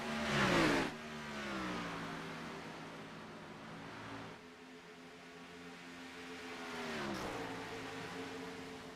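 An onboard race car engine at Charlotte Motor Speedway in a sim racing game drones at high revs and rises and falls through the shifts. It sounds steady and fairly loud, with no talking.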